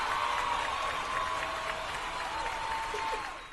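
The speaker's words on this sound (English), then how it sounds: "Thank you for the applause." Applause in the video game The Thaumaturge, a standing ovation heard as a steady wash of clapping from a crowd, moderately faint and fading out at the end.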